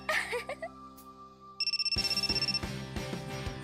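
A telephone rings in the visual novel Momoiro Closet, a rapid electronic trill of repeated bursts starting partway through and continuing over soft background music, fairly close and clear.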